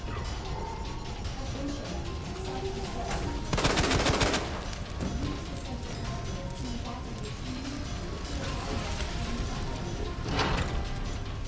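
Gunfire in the Resident Evil 2 Remake game, a few sharp bursts of shots standing out over game ambience and voices, the loudest burst near the middle and another near the end.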